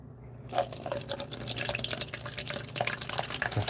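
Liquid poured for a hot water or vodka extraction, a steady close trickle with small splashes and drips running throughout.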